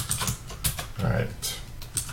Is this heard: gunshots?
no